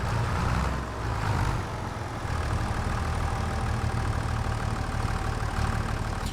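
A tractor engine in Farming Simulator 25 idles with a steady, low rumble that holds at an even level throughout, with no talk.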